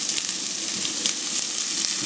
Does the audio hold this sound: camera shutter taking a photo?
no